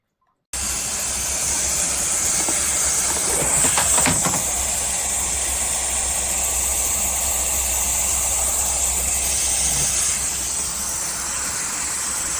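A Kärcher SC 5 EasyFix steam cleaner lets out a loud, steady hiss of steam that runs unbroken for about twelve seconds after a sudden start, with a brief swell of rougher noise partway through.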